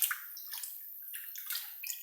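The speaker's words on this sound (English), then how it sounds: "I'm just going to get the 3 pads that come in a pack and drop those in some water" Filter pads from a wine and spirits filter set drop into a container of water to soak, making a soft, steady splashing and sloshing for a couple of seconds.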